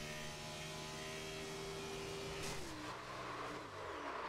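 A race car engine in iRacing at Iowa drones at a steady, stuck high pitch from a hanging throttle, then slides downward in tone partway through. It stays faint and continuous with no voices.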